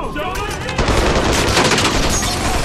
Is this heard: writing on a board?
no